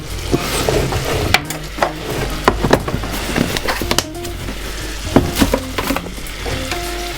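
Flour sizzles in a pan for a lasagna sauce while being stirred, with crackling frying, scattered clinks and scrapes of a utensil against the pan, fairly loud and close, no voice.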